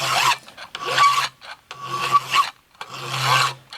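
An old Nicholson farmer's file rasps across a wooden axe handle in four long, loud, close strokes with brief pauses between, each a gritty scraping rub.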